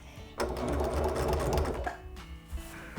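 A sewing machine chain piecing quilt fabric, half square triangles for a scrappy Hunter's Star quilt, runs in a steady close whir of rapid stitching for about a second and a half, then slows and stops with soft mechanical clicks.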